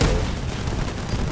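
Rapid gunfire in a video game, a steady dense fusillade of overlapping shots held at high level for the whole stretch, with no pauses between bursts.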